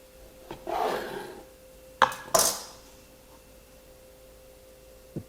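A knife slices through smoked Snake River Farms Wagyu brisket, giving a soft rasping cut followed by two quick, louder scraping strokes against the board, close and without talk.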